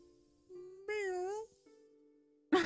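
A meow rises in the middle of a tabletop role-playing session, where a small troop of eight kittens comes up a stairwell: one drawn-out, wavering mew, close and fairly loud, between steady tones and a sharp noise at the end.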